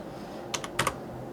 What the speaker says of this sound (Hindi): हम सिंपली यहाँ पे टाइप करेंगे EMA